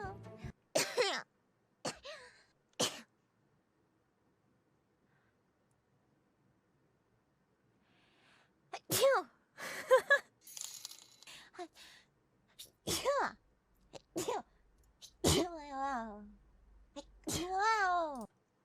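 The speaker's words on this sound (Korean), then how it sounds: "진짜 사람 재채기는 다 일관되구나." People sneeze one after another, each sharp burst separated by long pauses and some near silence, with occasional gasps and throat-clearing sounds in between.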